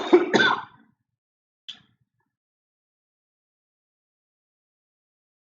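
A person clears their throat, two rough bursts in quick succession close to the microphone, followed by a faint click and then silence.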